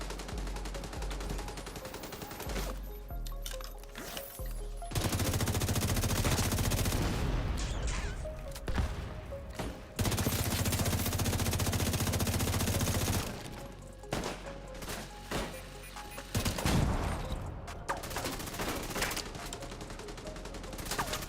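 Sniper turrets in the video game The Division 2 fire heavy gunshots in loud, dense bursts, with shorter pauses between volleys and a rapid barrage of shots through the middle.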